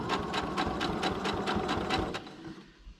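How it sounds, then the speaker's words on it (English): A sewing machine stitches across paper in a quick burst, its rhythmic needle thumps close and clear for about two seconds before slowing and stopping. "I'm going to sew from that corner down to this corner."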